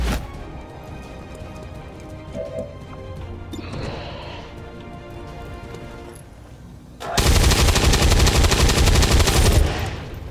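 Scattered bursts of weapon fire crackle through the XCOM 2: War of the Chosen game soundscape, then a loud, sustained roar of heavy cannon fire blasts for a few seconds.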